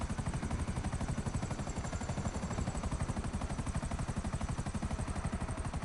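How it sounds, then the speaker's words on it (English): Helicopter in GTA Online with its engine dying after a hard landing, a steady rapid rotor chop with a rough, sputtering low drone, loud and continuous throughout with no talk. "the chopper will crash or start crashing, because I did a pretty hard landing and the engine is dying"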